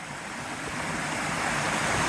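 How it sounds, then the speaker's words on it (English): Steady rushing water from a waterfall beside a forest trail in the Black Forest Trail's Algerine Wild Area, a continuous broadband roar that holds even and gradually swells slightly louder, with no voices. "There's a waterfall."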